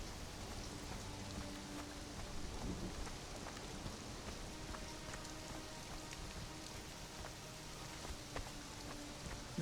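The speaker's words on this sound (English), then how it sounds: "Wow, this is a serious storm right here." Heavy rain and rumbling thunder fill a storm in a video game, a dense, even hiss of falling drops with faint low rolls underneath, no voices.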